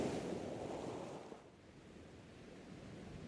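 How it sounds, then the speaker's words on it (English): Gentle ocean waves wash onto a sandy shore in a broad, steady hiss, swelling early and then easing into a softer, continuous surf with a light breeze. "The waves are gentle today, rolling in a steady rhythm that seems to call him"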